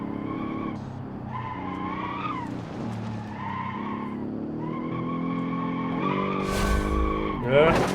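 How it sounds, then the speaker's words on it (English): A continuous loud tyre squeal from a race car on the Jungle Rock hillclimb in a racing video game, wavering in pitch over the engine roar with a sharp crash near the end. "It's permanent tyre squeal, like,"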